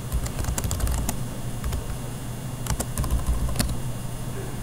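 Rapid typing on a computer keyboard, a quiet irregular patter of key clicks with a few sharper strikes, heard alone against a steady low room hum.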